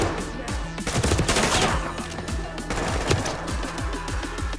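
Rapid, loud automatic gunfire in the tactical shooter Ready or Not, a rifle firing 300 Blackout armor-piercing rounds in quick repeated bursts, close and punchy, with no talking.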